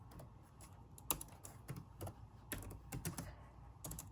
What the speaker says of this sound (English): I'm just gonna type in something, y'all